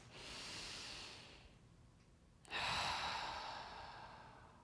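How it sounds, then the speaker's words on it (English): A big, deep breath drawn in slowly, then a pause and a forceful exhale, soft and close, with no talking. "Now we take the big breath"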